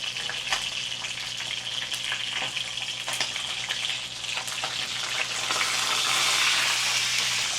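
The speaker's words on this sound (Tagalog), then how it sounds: "Dito naman tayo sa mapanakit na aking piniprito." Food fries in a home kitchen pan with a continuous close sizzle, scattered sharp crackles and pops, swelling slightly louder toward the end with no talking.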